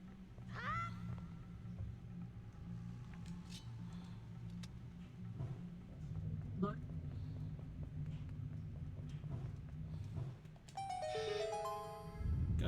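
A sparkling rising jingle plays near the end, a bright cascade of chimes in the Zelda: Wind Waker game, after a stretch of low rumbling background and scattered small game sounds.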